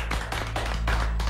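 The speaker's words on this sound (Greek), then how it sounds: "Θέλω να τη χειροκροτήσουμε όμως" A studio audience on the Greek Fort Boyard show claps for contestant Stefania in dense, continuous applause that stays close and steady throughout.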